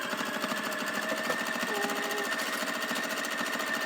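A home sewing machine runs steadily while back stitching over a cloth face mask, a close, continuous mechanical whir with a fast, even needle rhythm and no voices.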